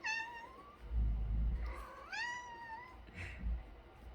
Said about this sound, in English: this is my pathetic little cat